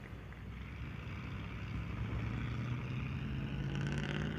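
Sprint car engine running at 141 Speedway during High Limit Racing, a steady droning roar with harmonic tones rising slightly toward the end, continuous and moderately distant, no talk.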